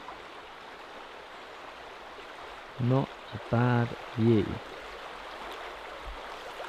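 The River Spey in Scotland runs fairly fast beside a mossy, grassy glade, giving a steady, even rush of water throughout, while someone speaks briefly over it midway.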